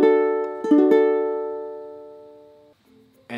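A ukulele chord with fingers on the second fret of the fourth, third and second strings is strummed in a few quick strokes close up, then rings out and slowly decays before a faint muted touch at the end.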